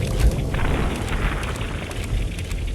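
An enemy in Fallout 4 blows apart in a rumbling, crackling explosion, loud and sustained with low booming and scattered pops that continue for a few seconds.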